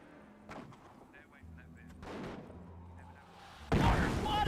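Mortar and gunfire in the World War II strategy game Company of Heroes, with several separated thuds and bursts building to a loud, dense blast of fire at the end.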